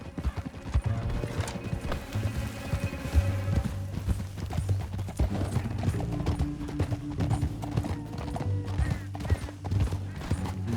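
Galloping horse hooves in the game Red Dead Redemption 2, a rapid, steady clip-clop that runs throughout over a music bed, with a faint whinny.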